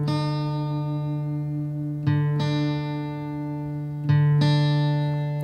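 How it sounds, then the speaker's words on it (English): A guitar's low E string being detuned down to D against a reference note, two plucked notes ringing with sustained tones, each restruck about every two seconds, clear and alone. "And we're tuning down the E and matching it to sound like the"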